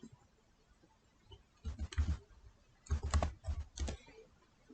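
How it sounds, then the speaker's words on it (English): Fingers tap on a computer keyboard in two short, quick bursts of clicking keystrokes, close and fairly loud against a quiet background. "start to type"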